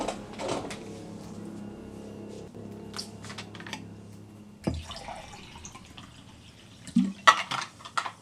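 Water runs and drips from a tap as a drink is poured, with faint clicks and taps, then a louder cluster of splashing and clinking near the end, close and sparse without speech.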